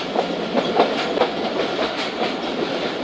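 Train rolling along the rails near Attock Khurd in Pakistan, where the line bends through a sharp ninety-degree turn. The steady rumble carries a repeated clickety-clack of wheels over rail joints, close and continuous, with no voices.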